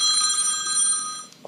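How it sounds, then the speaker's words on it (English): A telephone bell rings in a bright, sustained trill that stays loud and steady before fading off near the end, with no voices over it. "I don't want to interrupt your phone call."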